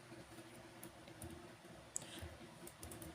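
Light keyboard typing while entering regression variable labels in statistics software: faint, sparse clicks and taps over a steady low background hum, with one sharper keystroke standing out midway.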